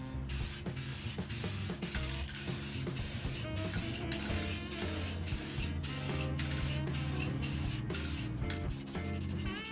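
Aerosol spray paint can hissing out a light coat onto a guitar body, a steady broadband spray in repeated short bursts with brief gaps, close and loud throughout with no talk.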